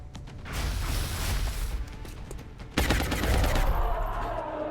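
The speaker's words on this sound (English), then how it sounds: "We're going to try a little rapid fire on the muton." Rapid fire gunshots aimed at a muton in the XCOM Enemy Within video game: a dense, rattling burst of shots over noisy battle ambience, then a heavier, louder volley near the end.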